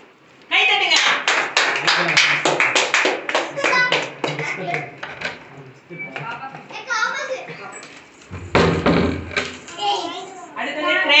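At a family Christmas celebration, several people clap hands in a quick burst of sharp claps mixed with children's and adults' voices, followed by more chatter and a later louder flurry of claps.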